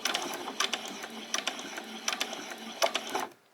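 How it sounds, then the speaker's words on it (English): A sewing machine stitches a handbag in quick rattling bursts of needle strokes separated by short pauses, close and fairly quiet, then winds down and falls silent at the end. "Now I'm going to drop my needle into the down position so that it'll stay down when I get to the end here."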